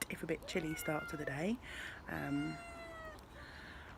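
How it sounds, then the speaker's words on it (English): A pet cat meows several times in a garden on a chilly morning, its calls clear and close, interleaved with someone talking. "sure you can hear my crazy cat meowing."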